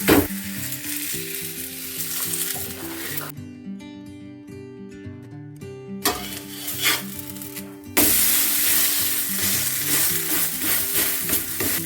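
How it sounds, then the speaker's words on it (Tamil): Finger millet and drumstick leaf adai cooking in oil on a pan, a continuous close sizzle with rasping scrapes, interrupted by a stretch of background music, then loud frying resumes. "அங்கே ரெண்டாவது அடையை சுட்டு எடுத்துகிட்டு இருக்குது."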